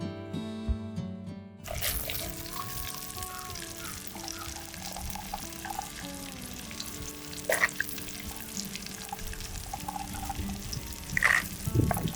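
Prawn curry ingredients, with onions and green chillies, frying in hot oil in a Godavari-style kitchen, giving a steady close sizzle with a few brief stirring and pouring bursts; no one talks.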